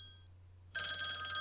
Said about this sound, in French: le téléphone de votre véhicule qui se met à sonner